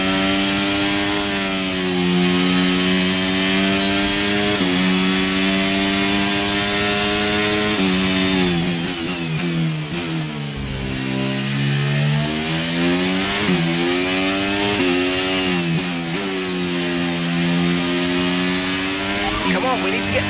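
A loud, continuous high-revving Formula 1 race car engine from F1 23, racing in Spain, droning steadily with pitch dips and rises as gears shift; a voice speaks over it in places.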